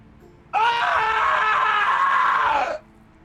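A single drawn-out scream of anguish imitated by a voice, loud and close, rising then sagging over about two seconds before cutting off into quiet.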